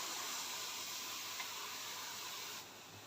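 Steam iron hisses as it is pressed onto fabric appliqué pieces, a faint, steady breathy spray that drops off near the end.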